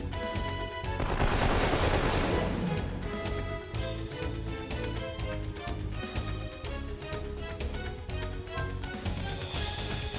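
Machine-gun fire from the Accelerator in Wild Arms 3 rattles in a long rapid stream of shots, mixed with music and battle effects and growing louder in spots.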